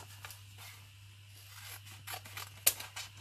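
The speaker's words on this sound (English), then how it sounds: "So I think I will cut the word yarrow out" Scissors snipping a word out of a paper planner page for a collage, a few soft, close cuts and rustles, with one sharper snip near the end and no talk.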